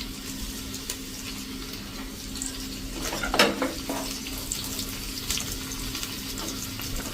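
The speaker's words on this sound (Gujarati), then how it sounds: "અને આને આપણે એકદમ સરસ સ્લો ફ્લેમ ઉપર સાંતળી લેશું આ બધો મસાલો" Garlic, dried red chilli and spices sautéing over a slow flame in a dal tadka pan, a soft steady sizzle with a few louder crackles and stirring scrapes midway, no talking.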